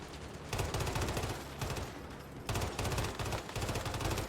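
Rapid video game gunfire in bursts, loud and close, with two long volleys of rattling shots separated by a short pause.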